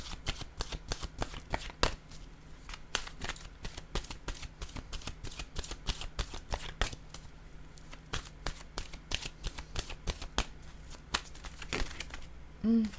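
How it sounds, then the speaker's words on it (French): Oracle cards are shuffled by hand before a reading, a long run of quick, crisp riffles and slaps in an uneven rhythm, close and fairly quiet, with no voice over them. "Allons-y maintenant avec une nouvelle carte de mon oracle de l'âme intuitive."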